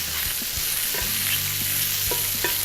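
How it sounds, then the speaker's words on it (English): Small okra fries in a pan while a spoon stirs it, giving a steady bright sizzle broken by several soft scraping and tapping strokes. "Let me stir this in real quick."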